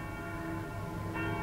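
A palace of justice bell in Venice tolls steadily, its sustained metallic ring humming through the whole stretch with a slight swell near the end, no voices over it.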